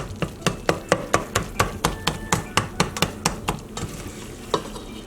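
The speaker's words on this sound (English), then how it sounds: "Mince, mince, mince." A knife mincing chicken filling for empanadas on a cutting board: quick, evenly spaced chops in a steady rhythm, close and crisp, slowing and thinning out toward the end, with no talking.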